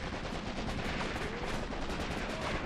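Dense machine gun and rifle fire rattles continuously through a Soviet infantry assault in the Graviteam Tactics: Mius Front wargame, loud and sustained with overlapping bursts and no pauses.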